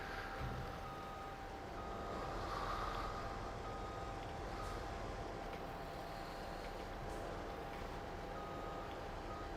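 A vehicle backing up trailers in Farming Simulator 22, its faint steady reversing beeps sounding over a constant engine and road rumble.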